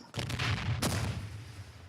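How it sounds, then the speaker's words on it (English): A grenade goes off in a shooter video game as a loud, booming blast followed by a second sharp burst, with rumbling decay filling the gaps and no talk. "I'm gonna throw a grenade."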